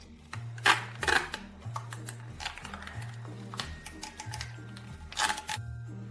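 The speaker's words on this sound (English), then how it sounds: "we take the Scotch tape and tape it tightly" Scotch tape is pulled and pressed tightly around a balloon on a paper popper, giving crackly, uneven bursts of sticky rustling over steady background music.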